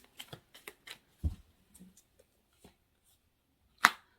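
Tarot cards laid one by one on a table, giving soft, sparse slaps and flicks at uneven intervals, with one sharper snap near the end, close and quiet with no talk.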